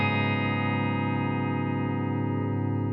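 A single sustained guitar chord, played with a capo on the fourth fret, rings out with a distorted, effected tone, holding steady for a few seconds before cutting off.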